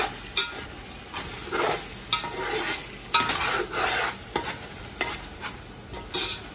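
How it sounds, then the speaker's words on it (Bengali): Biryani masala with chillies frying in a pot, a soft sizzle broken by repeated scraping stirs of a spoon at an irregular rhythm, close and fairly quiet, no talking. "এখন এই অবস্থায় আরও কিছুক্ষণ এটাকে ফ্রাই করা হবে"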